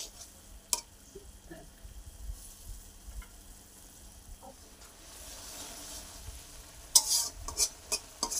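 Fish frying in a pan in a Bengali home kitchen, a low steady sizzle under occasional scrapes and clinks of a spatula stirring, rising to a sharper crackle near the end with no talk.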